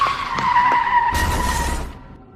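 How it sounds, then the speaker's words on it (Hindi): A car's tires skid and squeal loudly in an animated cartoon, ending in a brief broadband crash burst that fades out. "गुल्ली एक गाड़ी से टकरा जाता है और वहीं गिरकर बेहोश हो जाता है।"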